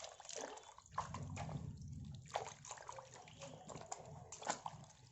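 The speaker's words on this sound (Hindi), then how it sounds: "अब देख सकते हैं मैं इसी पानी से डिप करके मैं इसी पानी से वॉश कर रही हूँ।" Feet dipped and washed in a basin of water during a home pedicure, with steady sloshing and trickling splashes that rise in a few louder pours, close up over a low murmur.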